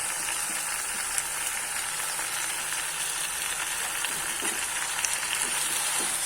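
Chopped Malabar spinach (puroi) stalks sizzle steadily in hot oil in a frying pan, a dense, even crackle with occasional clicks from stirring, close and continuous with no talking.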